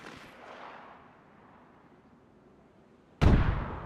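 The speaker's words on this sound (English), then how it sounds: "We're gonna shoot it at that tree." A single loud, sharp gunshot fired at a tree in the video game DayZ, arriving abruptly after near-quiet and trailing off in a short echoing decay.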